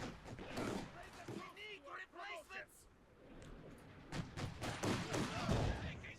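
Small arms fire crackles in a Company of Heroes 2 battle, bursts and thuds scattered through the mix while a caster talks over most of it.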